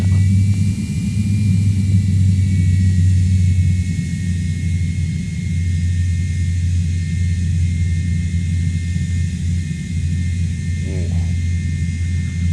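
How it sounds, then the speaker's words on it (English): Twin jet engines of an MD-88 airliner in X-Plane 11, a loud steady low rumble beneath a thin high whine that holds constant throughout. "we should get a nice little whine out of the engines today"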